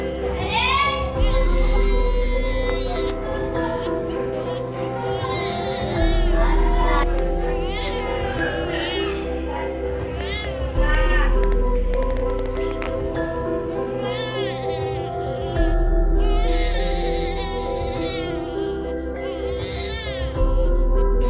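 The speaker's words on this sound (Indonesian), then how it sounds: "ia samar-samar mendengar tangisan bayi" Baby crying as a sound effect in a school sociodrama, a close, loud infant wail in repeated rising bursts that carries on throughout, over a low steady background hum.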